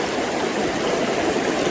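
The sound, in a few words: fast-flowing river water in a riffle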